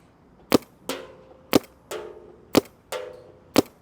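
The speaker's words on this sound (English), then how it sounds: "So we're gonna shoot a bunch of paint out of it." A Planet Eclipse CS3 Pro paintball marker fires paintballs, giving six loud, sharp pops about half a second apart, each followed by a brief decaying ring.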